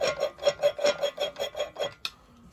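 A screwdriver twists a valve back and forth on its seat in the cylinder head of a 1920 Lister Q Type engine, giving about nine rhythmic rasping grinds in quick succession, close and fairly quiet, then a sharp click.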